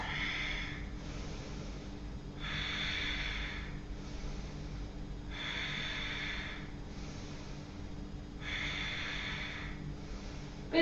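Ujjayi-style yoga breathing during Ashtanga practice, four slow, loud, airy breath cycles alternating with quieter pauses, steady and rhythmic with no talking.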